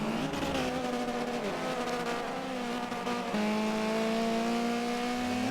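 An RS500 race car in the Forza racing game whines at high revs with a strong tonal engine note that rises and falls through gear changes, loud and continuous.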